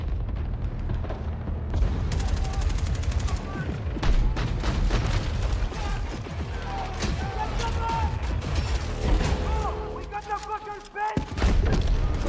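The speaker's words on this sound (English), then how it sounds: "Like an automatic mortar turret." An automatic mortar turret fires in a video game, with rapid bursts of booming shots and mechanical clatter piling up loud and close, mixed with game sounds and speech.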